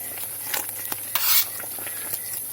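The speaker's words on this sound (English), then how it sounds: "I'm going to boil it on very low like this" Lime skins in a pot on very low heat, giving a soft bubbling simmer with occasional light scrapes and a brief louder stir, quiet and close with no talking.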